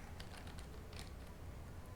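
Soft, rapid keystrokes on a computer keyboard as a GCC version command is typed into a terminal, a light irregular pattern of faint clicks heard close but quiet, ending on a sharper tap.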